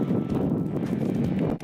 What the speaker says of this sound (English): the wind's blowing so hard